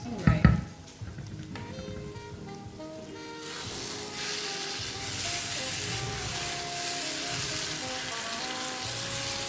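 Egg and kontomire stew fries in vegetable oil while being stirred now and then, a steady close sizzle with crackle and a few spoon knocks at the start.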